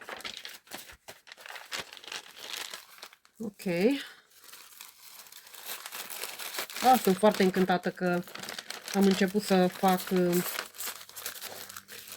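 Paper pages crinkle and tear as they are pulled out of a handmade garden-themed journal, with some watercolor paper among them; crackling rustles run throughout, close and moderately loud, while someone talks over much of it.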